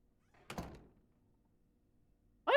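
A door opens in The Isle Tide Hotel video game with a single soft thunk and brief rattle, followed by near silence before another sound begins at the very end.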